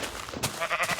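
Sheep in the Minecraft video game bleating, two short nasal bleats about half a second apart, fairly clear and close with no talk over them.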